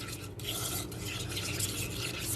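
Fresh milk and other face pack ingredients stirred in a small bowl, a steady close scraping and rubbing sound lasting throughout with no pauses.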